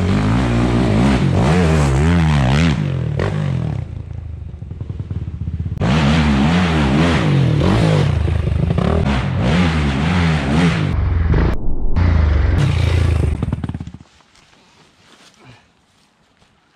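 A Yamaha YFZ450R quad's engine revs hard and repeatedly, its pitch climbing and falling in loud bursts before cutting off into near silence at the end.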